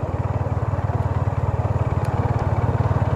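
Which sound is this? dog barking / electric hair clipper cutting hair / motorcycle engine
motorcycle engine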